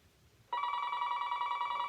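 A telephone bell starts ringing abruptly after a brief quiet moment, then sustains a bright, continuous trilling ring at close range with no voices over it.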